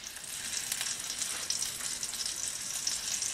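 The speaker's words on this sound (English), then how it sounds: "we're going to take and put these chops in our grease here" Pork chops browning in hot grease in a pan, a steady crackling sizzle with fine popping spatters throughout, fairly quiet and close with no voices.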